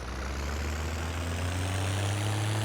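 A tractor engine in a farming simulator game drones steadily and loudly throughout, a continuous low rumble with no breaks.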